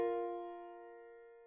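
Two notes a perfect fourth apart sound at once, a single struck chord that rings with steady, clear overtones and decays gradually, alone and fairly quiet.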